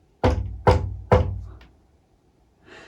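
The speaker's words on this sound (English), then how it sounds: "He knocked at the first door." Three firm knocks on a wooden door, evenly spaced and close, each a resonant thud, followed by quiet and a faint rustle.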